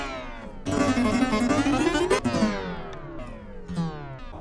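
A clavichord string is struck on a G note, giving a bright plucked-metal attack that decays, followed by further sliding and struck string tones with no speech.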